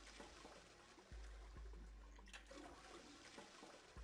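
An old toilet aboard a ship in a video game flushes with a rushing, gurgling wash of water, a low steady drain with a few knocks and clunks, fairly quiet throughout.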